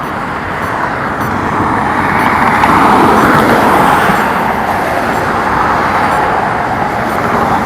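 Steady roar of road traffic with cars and heavier vehicles passing continuously at close range, a dense broadband wash that swells slightly mid-way and never drops out.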